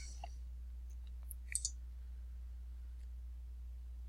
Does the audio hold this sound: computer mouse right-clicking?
yes